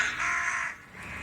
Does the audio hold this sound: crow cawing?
yes